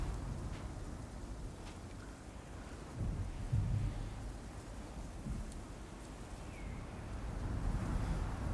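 In God of War Ragnarök, a storm blows across open water: steady roaring wind and surf-like wash, with a low thunder rumble swelling briefly partway through, continuous and enveloping.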